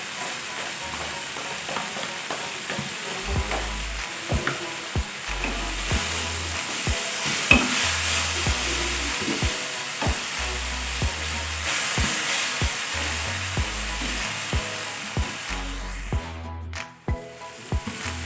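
Onion flowers and quail eggs stir-fried in a pan, a steady close sizzle broken by repeated scraping and clacking of a utensil against the pan, with no talking.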